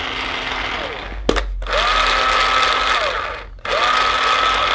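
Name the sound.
paintball hopper motor running in mode 3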